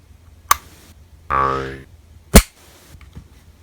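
A Heckler & Koch VP40 pistol trigger pulled and reset, giving sharp, crisp mechanical clicks close to the microphone, with a brief springy slide-like rattle between them in a quiet room.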